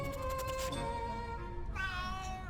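A Siamese cat in the adventure game A Vampyre Story gives a couple of clear, close meows, a drawn-out cry followed by a shorter rising one, heard alone without talk.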